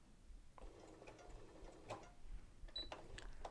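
A sewing machine fitted with a hemmer foot runs a few short stitches, a soft mechanical whirring and ticking of needle and gears, quiet and close with brief clicks.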